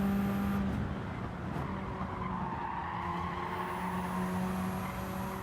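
A race car engine held under hard throttle in a racing video game, a steady loud drone with tire squeal and skidding running throughout, no voices.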